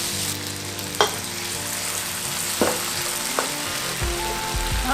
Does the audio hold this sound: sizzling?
yes